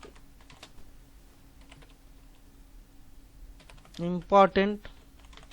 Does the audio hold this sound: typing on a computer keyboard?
yes